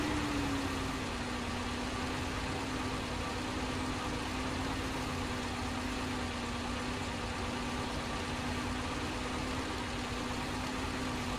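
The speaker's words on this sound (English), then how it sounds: "This should be a lot quicker now with that new engine." SnowRunner truck engine with a new engine fitted, hauling a trailer through a mountain storm: a continuous, fairly loud droning hum at nearly constant pitch, unaccompanied by talk.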